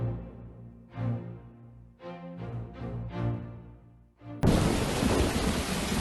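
Video game thunderstorm: rumbling thunder rolls in several waves, then a sudden loud burst of dense rain noise takes over and continues to the end.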